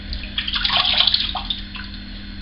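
Running water from a tap rinsing alum off the face after a shave, a short close splashing gush with uneven spatters over a steady flow.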